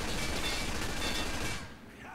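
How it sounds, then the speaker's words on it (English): Gunfire from a World War II battle in Men of War: Assault Squad 2, shooting at ammunition boxes during a Stalingrad defence: a loud, dense burst of shots and crackling that runs steadily, then cuts off to quieter background. "I wonder what happens if we actually do shoot those boxes."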